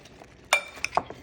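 Fried cauliflower florets for Gobi Manchurian being gently tossed in a pan, giving a few soft clinks and scrapes of a utensil against metal, close and fairly quiet with no talking.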